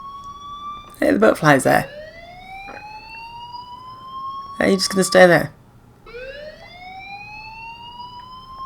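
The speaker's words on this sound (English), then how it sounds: "Hey, do you hear that fire alarm?" A fire alarm rings with a steady, slowly rising electronic tone in the video game Life Is Strange, repeating in long sweeps while a person talks over it.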